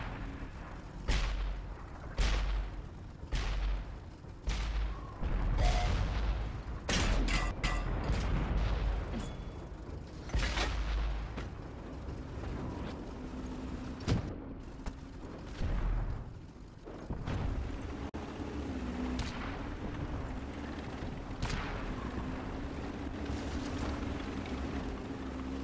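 StuG III tank cannon fire in a video game, a series of loud booming shots repeated every second or two over a low engine rumble, with the firing dying down into steady mechanical drone later on.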